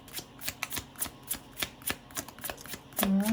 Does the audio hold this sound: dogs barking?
no